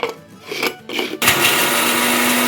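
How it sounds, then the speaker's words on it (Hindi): A kitchen grinder whirs loud and steady after a few brief rattling starts, blending red chilli, crushed chilli, turmeric and ground garam masala for chicken masala karahi. "और अब इन सब चीज़ों को पीस लें।"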